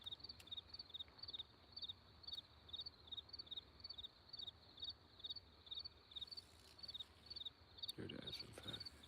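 June bugs outdoors, a high, rhythmic chirping trill repeating in steady pulses over a faint background, with a couple of brief louder knocks near the end.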